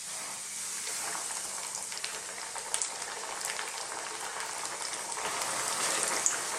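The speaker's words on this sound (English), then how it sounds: "Now this oil is hot. We're just going to get our fish and drop it in." Fish pieces dropped into hot sunflower oil set off a lively, crackling sizzle that bubbles steadily and grows a little louder toward the end, with no one speaking.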